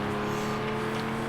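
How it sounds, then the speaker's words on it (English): A truck engine revs steadily in a sim racing game, a continuous droning hum with a sustained tone that holds for the whole short moment, heard in the background without any talking. "you can hear somebody revving it in the background"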